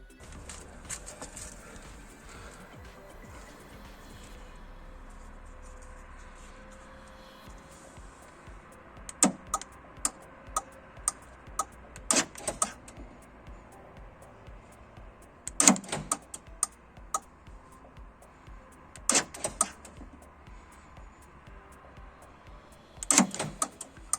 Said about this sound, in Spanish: la cerradura se abre y se cierra, y además en el movimiento correcto